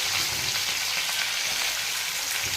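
Onion sizzles and fries steadily in a hot pan, a close, continuous crackling hiss with no speech over it.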